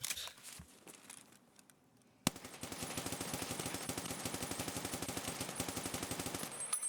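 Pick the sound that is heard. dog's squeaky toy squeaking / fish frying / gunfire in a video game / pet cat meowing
gunfire in a video game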